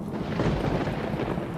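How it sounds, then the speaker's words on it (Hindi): Heavy rain pours down in a dense jungle while thunder rumbles low underneath, an audio drama effect. The wash of sound is steady and continuous, moderately loud, with no voices. "तेज बारिश शुरू हो गई थी।"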